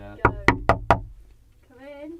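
Four evenly spaced knocks on a door, firm and close, followed by a short pause and then a person's voice.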